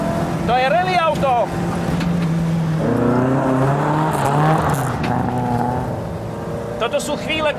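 A rally car with a limited-slip differential driving fast over rough ground, engine droning loudly and steadily with shifts in pitch, while someone talks over it.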